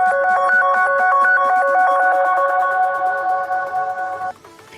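A phone's ringtone plays remotely after being triggered by the Find My Device app: a loud, continuous melodic electronic tune that cuts off abruptly near the end, with no talking.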